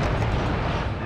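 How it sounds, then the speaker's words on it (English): A powderstone explodes in the video game Monster Hunter Tri, a dense, loud burst of rumbling blast noise that roars steadily for about a second without fading. "I was just demoing that they will blow up"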